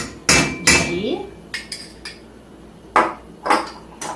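A small spoon of ghee clinks against a heated pan in a kitchen, with several sharp metallic taps and knocks spread unevenly across the moment, close and fairly loud, with no voices.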